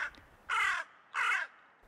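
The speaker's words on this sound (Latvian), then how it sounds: "Vārna saka krā, krā" A hooded crow with a grey belly and black head calls two harsh, drawn-out caws about half a second apart, clear and fairly close against quiet surroundings.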